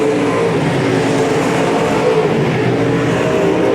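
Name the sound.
race cars racing at Boothill Speedway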